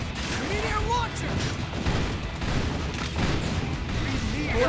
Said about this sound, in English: Meteor launcher!